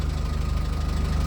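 A golf cart's engine idles with a steady, evenly pulsing mechanical hum and a low chugging rhythm, close and continuous throughout.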